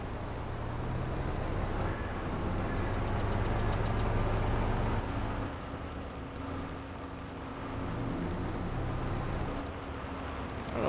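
A heavy tractor's engine runs steadily in Farming Simulator 22 on a summer wheat farm, a continuous low droning rumble with slight shifts in load and no talk over it.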